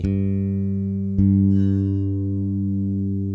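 A bass guitar's G string is plucked twice during tuning, each note ringing out with a strong, sustained low tone and slowly fading, close and clear with no talking.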